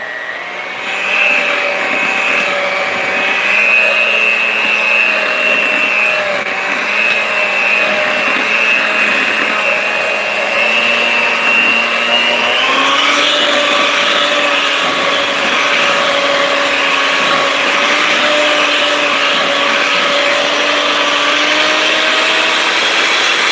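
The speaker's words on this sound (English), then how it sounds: "So I'm going to mix that in. And we're going to get this all nice, okay? All nice and smooth." An electric mixer whirs steadily and loudly through raspberry white chocolate cheesecake batter, a continuous motor drone whose pitch shifts slightly partway through.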